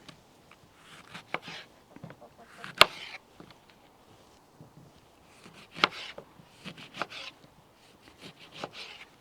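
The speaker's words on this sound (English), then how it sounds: "But now I'm cutting the lemon into slices because we want some of the juice to come out." A knife slices lemons on a board for homemade elderflower cordial, giving quiet, irregular taps and cuts in short clusters with pauses between.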